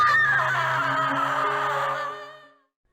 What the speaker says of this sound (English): as we do we hear Stephanie screaming